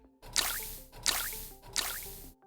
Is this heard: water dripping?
yes